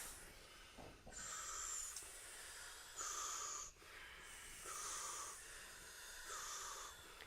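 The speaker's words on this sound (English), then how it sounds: "inhale mouth, exhale nose. And it's a powerful breath" Forceful rhythmic breathing, inhaling through the mouth and exhaling through the nose, with five or six hissing breaths in steady succession, close and airy, no talk.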